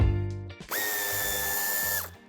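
A power tool removes screws from the tail light of a 2021 MG ZS during a tow hitch installation. There are two short whirring spins, then a longer high motor whine that winds up and stops, heard close with no speech.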